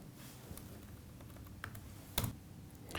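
Soft, steady key clicks from a computer keyboard being typed on continuously for a few seconds, fairly quiet with a few sharper taps standing out.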